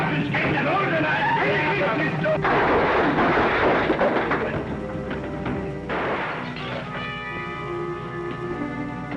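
A gunshot shoots out a lamp during a Western gunfight, a heavy booming blast that rings on, with thuds and crashing noise following.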